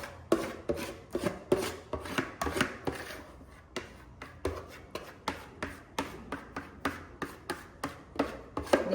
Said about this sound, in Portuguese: vamos espalhar bem essa massa